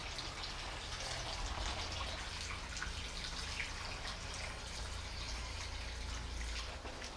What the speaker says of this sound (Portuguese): Agora sim, vamos completar a água.